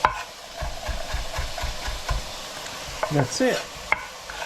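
Peppers, onions and carrots stirred and frying in a pan, a steady low sizzle with repeated scraping stirs, and a brief voice near the end.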